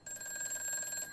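A telephone ringing for an incoming call, one short electronic ring tone with a steady warbling pulse, fairly faint and heard alone.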